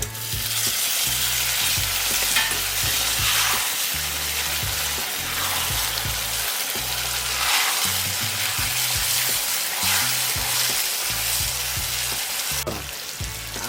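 Chicken pieces fry in hot oil with onion and garlic, a steady close sizzle broken by repeated scraping stirs and spatters.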